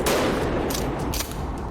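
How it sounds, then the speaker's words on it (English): Gunshots ring out during RCMP police firearms training: a dense flurry of sharp, overlapping reports at first, then a few spaced cracks trailing off, loud and fairly close, with no voices. "We're getting shot at."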